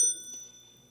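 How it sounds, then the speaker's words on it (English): A single tap on a front desk bell at a civics quiz competition gives one bright, ringing ding that fades away over about a second, with no talking. "hit my front desk bell"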